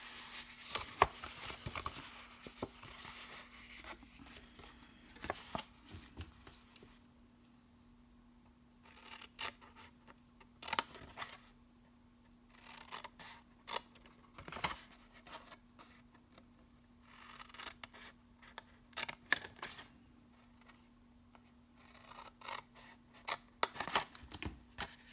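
Scissors snip along drawn lines on paper in quiet bursts of rapid, close cuts separated by pauses, with soft paper rustles and a faint steady hum underneath.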